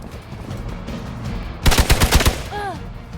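Gunfire in the video game Marvel's Midnight Suns: a rapid burst of about five loud, close shots in quick succession, then a brief whooshing swirl effect, with no talk over it.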